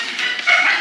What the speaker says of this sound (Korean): 왜 이렇게 멈출 줄 모르고 짖고 격하게 달려드는 걸까요?